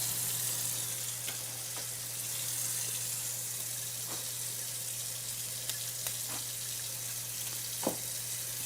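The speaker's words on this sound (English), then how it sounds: "All right, I got to rinse these off." Celery stalks rinsed under a steady stream of running kitchen tap water, a constant close hiss with a low electrical hum beneath and a few faint clicks and knocks.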